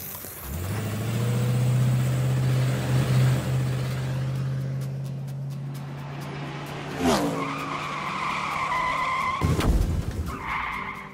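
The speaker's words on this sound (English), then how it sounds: "Go out and try this soda and Mentos powered vehicle." A toy rocket car powered by soda and Mentos launches with a sustained spraying whoosh and low rumble that runs for several seconds, then gives way to a couple of sharp clatters and a rattling impact near the end.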